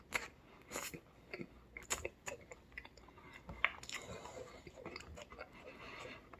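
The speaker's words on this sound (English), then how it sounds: "Let's eat the turkey" Turkey being eaten at close range, with soft crunchy chewing and biting sounds in irregular bursts, quiet and without talk.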